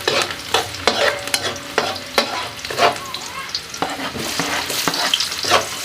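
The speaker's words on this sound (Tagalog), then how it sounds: "magluluto pala ako ng ginamos. Igigisa ko." Ginamos, a fermented fish paste, being sautéed in a pan: a steady close sizzle with repeated sharp scrapes and clacks of a utensil stirring against the metal throughout.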